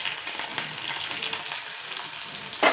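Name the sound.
onion sautéing in oil with cumin and mustard seeds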